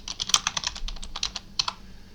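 Fingers tap out a comment on a computer keyboard in a quick, uneven burst of crisp, close keystrokes, a short pause breaking the flurry before a few final taps.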